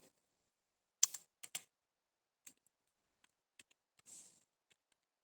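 Sparse, quiet keystrokes on a computer keyboard while text is entered in Microsoft Word 2013: a few quick clustered taps, then isolated clicks spaced out over several seconds.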